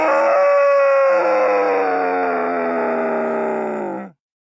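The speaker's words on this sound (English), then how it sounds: "A giant demon howled as if to say, "Come at me!"" A giant demon lets out a long, loud, mournful howl, a single sustained tonal cry that slowly slides downward in pitch before cutting off abruptly into silence.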